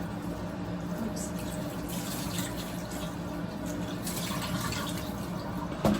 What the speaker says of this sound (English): Let me wash my hands and then I'll show you the coolness.